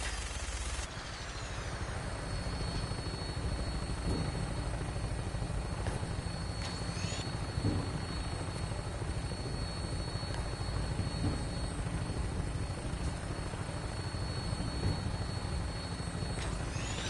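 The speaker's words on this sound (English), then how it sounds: "We're on final approach to the airport." A Vertibird aircraft in Fallout 4 makes its final approach to an airport, a loud, continuous rotor and engine roar with steady thumping that holds for the whole stretch, with no voices.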